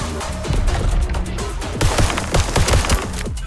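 Airstrike explosions in the video game VOID/BREAKER, a loud rapid string of blasts and crackling impacts, bursting in uneven clusters for several seconds.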